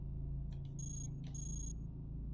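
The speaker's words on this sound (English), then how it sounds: "Alarm trap." An alarm trap goes off in the game Cogmind: two bursts of high, steady electronic beeping tones, the second longer, over a constant low game hum.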